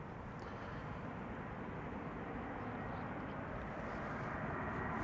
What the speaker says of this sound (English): our first big jet of the show is Delta Airlines Flight 162, arriving from Minneapolis, A330neo